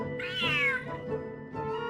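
A cat in the video game Genshin Impact gives a clear, drawn-out meow followed by a shorter second cry, close and alone.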